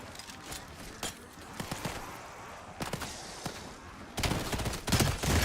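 An automated point turret fires in Black Ops 7 Zombies, with rapid crackling bursts of gunfire that grow louder and denser toward the end, without any talk.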